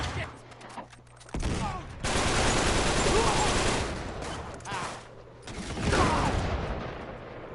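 Bursts of rapid gunfire from the video game Uncharted 3: Drake's Deception, loud and dense, with sustained volleys broken by brief lulls, over a low game hum.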